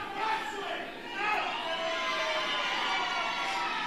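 A crowd at a ringside wrestling event, a steady roar of cheering and shouting with children's voices mixed in, heard from inside the arena with a commentator talking over it.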